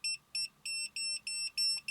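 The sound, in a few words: EMF and RF detector alarm beeping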